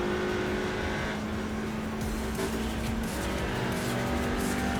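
Race cars revving out toward the limiter with brief gear-change delays in a TCR sim racing series at Monza Junior at night, a steady dense engine drone with sustained tones that shift as gears change, no talk.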